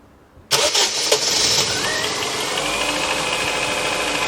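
A Ford Focus MK1 fires up after a short crank, then settles into a loud, steady, slightly uneven idle from close by, running rough as carb cleaner burns off.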